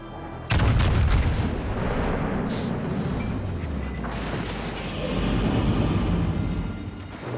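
Musashi battleship main guns fire in a naval video game, a sudden heavy boom followed by a long rumbling roll of gunfire and distant blasts, loud and close with no voices.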